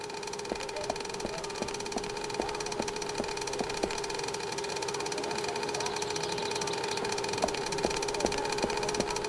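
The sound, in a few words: engine vibrations, from a video game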